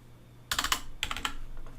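Keys clacking on a computer keyboard as shortcuts are entered, two quick bursts of several sharp taps each, close and fairly loud over a steady low hum.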